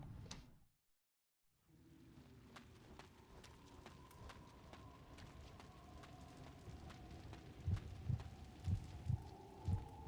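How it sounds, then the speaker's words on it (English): A low, soft heartbeat thumps in a steady rhythm through a dark ambient game soundscape in Kuon. Near the end it grows louder and more distinct, with paired beats. "why the heartbeat?"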